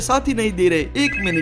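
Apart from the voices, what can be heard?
phone ringing, from the video game GTA V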